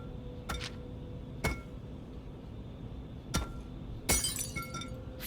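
In Penumbra: Black Plague, a glass screen is struck several times with sharp, isolated knocks, then shatters in a bright crash of breaking glass. Tinkling shards follow against a low ambient hum.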